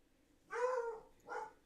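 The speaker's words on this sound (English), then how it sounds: "the only dog that barks in the house is Lebowski" Two short barks from Lebowski, a house dog, sound indoors at moderate volume: a longer yap followed by a briefer second one after a pause.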